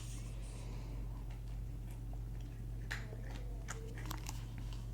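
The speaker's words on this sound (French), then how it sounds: "Un Sweetie qui grignote ses croquettes, c'est l'heure de manger." A pet named Sweetie nibbling its kibble, with small crunchy bites and chewing clicks close up over a low steady hum, growing busier toward the end.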